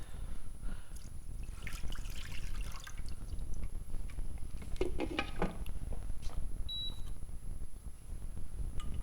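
Water runs and trickles steadily, poured for cooking Puerto Rican pollo guisado in a home kitchen, a close, continuous splashing stream with a couple of brief electronic beeps partway through and no talking.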